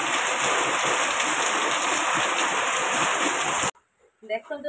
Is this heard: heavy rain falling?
yes